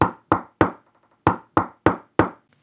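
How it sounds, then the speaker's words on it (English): Several sharp knocks on a door from a Smart Alex talking toy by Team Concepts, in two groups of three and four, loud, close and evenly spaced, with no voice over them. "Willie the wolf is getting ready to knock on the door."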